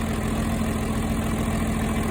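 A John Deere 4320 diesel tractor engine idles steadily after a cold start, a loud, even mechanical drone with a constant low hum and no change in pace or pitch, heard alone.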